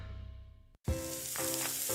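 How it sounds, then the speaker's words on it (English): Gain scent boosters being poured into a load of laundry, a close, loud granular rush and sizzle that breaks off briefly, then resumes as a steady crackling pour with small surges. "That's the sound of James adding long-lasting Gain scent boosters to his laundry this morning"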